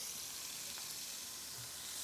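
A grouper fillet sears in a pan over high heat, giving a continuous, steady sizzle and crackle of frying at close range with no talking.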